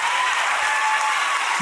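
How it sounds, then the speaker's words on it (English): A crowd in a played recording bursts into dense, continuous applause and cheering, loud and unbroken, before cutting off abruptly. "And the crowd goes wild."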